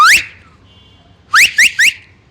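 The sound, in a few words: person whistling, imitating a whistle he learned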